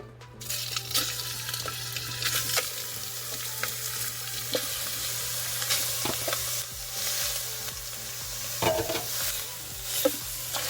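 Spicy sausage meat fries in a hot pot, sizzling steadily under repeated scraping and stirring strokes of a utensil, close and fairly loud, with a low hum beneath and no talking.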